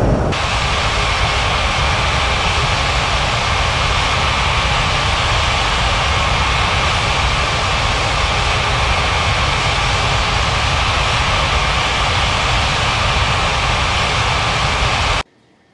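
Airliner jet engines roar in a steady, loud, unbroken whine while taxiing at Bali's Ngurah Rai airport in Unmatched Air Traffic Control, cutting off abruptly at the end.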